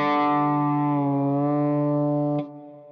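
Distorted electric guitar striking an open D string, a single loud sustained note with a slight pitch dip and rise from the whammy bar, then cut off abruptly to a faint ring.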